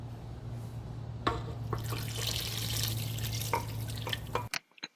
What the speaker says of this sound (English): And lastly, we're adding our coffee.